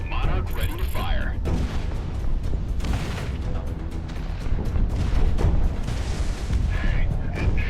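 Monarch weapon firing in the Project Wingman flight game, a dense, loud mechanical roar and rumble with bursts of heavy booming that carries on for several seconds, mixed with a radio-style voice and game noise.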